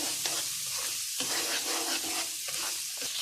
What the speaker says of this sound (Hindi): इसको हम मीडियम आंच पे भून लेंगे